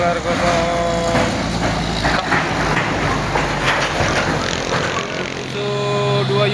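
Two loaded China and Japan trailer trucks labouring uphill, engines roaring loud and close with rough revving and hissing, a brief drop in intensity near the end, under someone talking.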